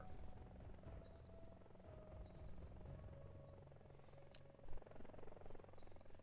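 Scout helicopter from Leave No One Behind: Ia Drang flying with a steady rotor drone, a continuous low thrumming hum held at even loudness throughout, fairly near, with no talk.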